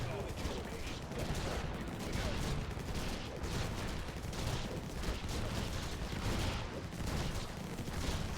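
Constant rattling gunfire and blasts from the Infested Planet strategy game, with sniper shots mixed into a dense, steady barrage that fills the whole stretch at an even, loud level.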